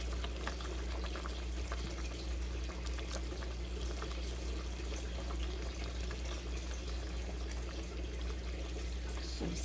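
Pot of Filipino tinola chicken soup bubbling steadily at a low, even simmer, a continuous watery churn with no voices.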